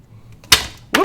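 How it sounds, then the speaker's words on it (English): A glue bottle knocks over onto a craft table, giving a sharp loud clatter followed a moment later by a second short rattling bump, close and alone in a quiet room. "Whoops! Just knocked my glue over."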